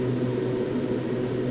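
Steady, fairly quiet drone of a Beechcraft plane's engine in a flight simulator during a climb, an even hum with no pauses or changes.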